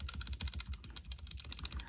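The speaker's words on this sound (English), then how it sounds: "to see if that makes a difference in terms of the typing sounds" Fast, light clacking from a Kemove SnowFox 61 mechanical keyboard fitted with Gateron Red switches, keystrokes landing in quick irregular bursts, close and fairly soft, with no voices.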